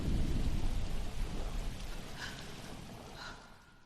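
Heavy rain pours in a storm in the video game L.A. Noire, with a deep rolling thunder rumble up front fading gradually into steady hiss of rainfall.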